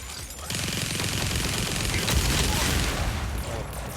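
Robot weapon fire in the arena combat game Mech Arena, a dense, sustained barrage of rapid shots and booms filling the whole stretch, loud and continuous with no pauses.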